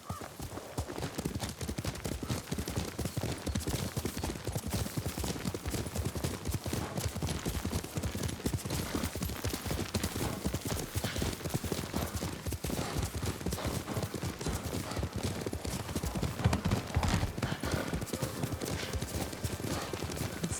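Horse hooves clip-clop in a steady, brisk rhythm while riding in the Ghost of Tsushima video game, loud and continuous with the occasional whinny and faint background voices.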